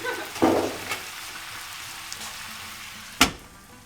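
Chickpea and kale curry in a pan, a low steady sizzle and bubbling with a couple of sharp utensil clinks or stirring knocks near the start and one loud clank later; no voices.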